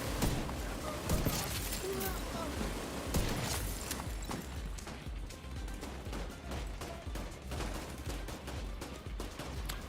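Rapid, dense gunfire from The Division 2 video game crackles continuously, with sharp repeated shots over a busy backdrop of combat noise.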